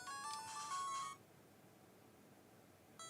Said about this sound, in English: Oh, notifications too loud.